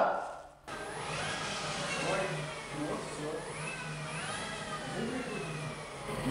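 The engine of a UAZ Bukhanka van catches on its first start after a short silence, then idles roughly and is revved several times in rising and falling sweeps, with people talking nearby.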